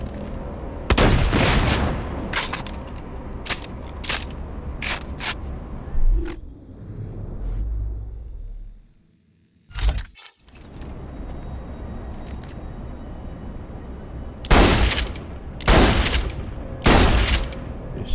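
Heavy shotgun blasts in Borderlands The Pre-Sequel, a rapid volley of loud booming shots near the start, a lull, then several more spaced, punchy blasts toward the end over a steady game ambience.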